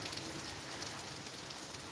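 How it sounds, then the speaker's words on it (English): Hurricane rain and wind outside, a dense, steady hiss of rain on surfaces mixed with a rushing wind noise, faint and continuous for a couple of seconds. "rain is falling on the outside, and the wind is heavy on the outside as well."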